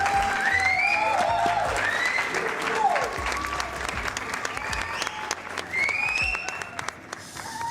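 Audience applause breaks out in a crowded hall at a car painting demonstration, steady clapping running under whistles, cheers and overlapping voices throughout.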